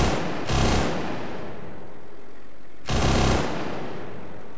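A Russian vehicle's mounted machine gun in a video game fires two rapid bursts, each under half a second and separated by a pause of about two seconds. Both are loud and close.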